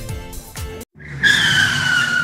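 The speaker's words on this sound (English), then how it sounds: "the car just crashed" A car skids with a sharp, sustained tire squeal that starts abruptly after a short gap. Low rumbling thuds come before the squeal, which stays loud and close until the end.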